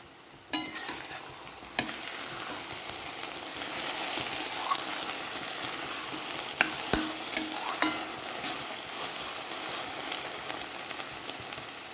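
Cashews sizzle and crackle steadily in hot oil for watermelon halwa, a dense frying hiss that starts abruptly and holds loud and close, with occasional stirring clicks and pops and no talk.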